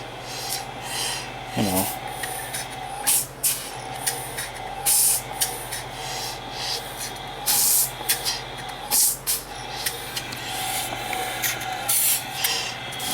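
A Medela Lactina breast pump with a weak motor runs in repeated rasping, hissing bursts of uneven length, loud and close, with a brief voice early on.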